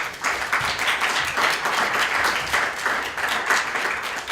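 Sustained applause from an audience welcoming Dr. Murphy to a lecture evening, dense steady clapping filling the room with no voices over it.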